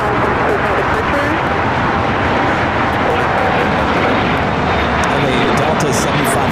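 Airliner engines roar steadily and loudly on takeoff from runway 25 Right at LAX, a dense broadband rumble with faint distant radio chatter mixed in throughout.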